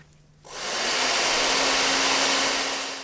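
A hot air heater switches on and blows steadily, warming glue on a toe during a podiatry procedure; a loud, continuous whooshing hiss with a faint motor whine, starting abruptly after a brief quiet moment.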